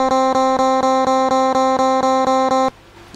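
Distorted electric guitar sample triggered in ModPlug Tracker, repeating the same C note about a dozen times in a rapid, even, machine-like rhythm, each hit restarting identically, loud and alone before cutting off abruptly.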